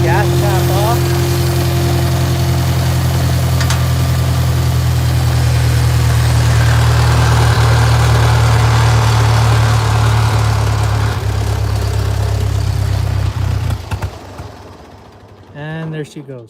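A tractor engine idles loudly and steadily with its gas cap off, a constant low rumble that holds for most of the clip before sputtering and dying away near the end.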